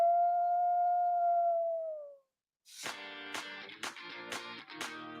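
A single long, drawn-out wolf howl holds steady and then fades, followed after a short silence by a radio jingle of bright, struck musical hits.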